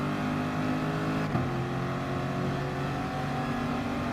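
Race car engine in Gran Turismo Sport climbing in pitch as it accelerates, with a brief dip at a gear change before the revs build again; a steady, loud mechanical drone with no talk.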